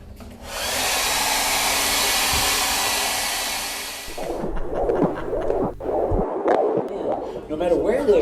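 A hair dryer blows steadily for about four seconds to dry paint on a painting, a loud even roar that cuts off, followed by rustling and handling noises.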